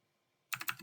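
Quiet pause, then a quick burst of clattering keystrokes on a computer keyboard while typing a command into a terminal, close and crisp.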